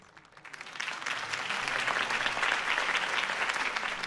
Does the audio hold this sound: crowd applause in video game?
yes